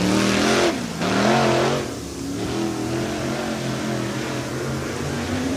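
Dirt track race cars at Swainsboro Raceway roar past in a loud pack, engines surging and fading as they go by, a steady throbbing mix of several motors at mid distance.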